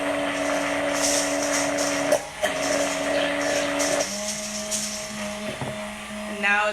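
Blender motor whining steadily, pumped up and down through oil while making homemade Whole30 mayo; its pitch shifts and dips a few times as the blades catch, loud and close with no talk over it.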